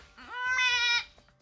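A person imitates a goat with one drawn-out, wavering bleat that rises and holds for about a second, loud and close, alone with no other voices.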